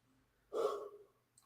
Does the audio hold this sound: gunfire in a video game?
no